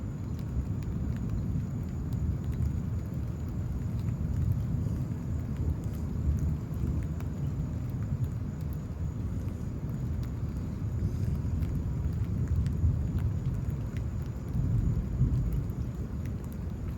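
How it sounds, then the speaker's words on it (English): Rain pours steadily during a Houston, Texas thunderstorm while a low, continuous rumble of thunder rolls underneath. The roar stays dense and even with no single sharp crack, and no one speaks. "Pretty intense thunder, or consistent."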